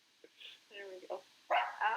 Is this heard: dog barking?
yes